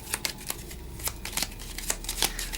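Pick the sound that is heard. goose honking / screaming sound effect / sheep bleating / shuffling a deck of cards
shuffling a deck of cards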